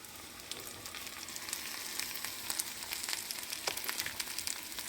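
Taro root pieces frying in a pan of hot oil, a steady close sizzle with crackling pops running throughout and no talk.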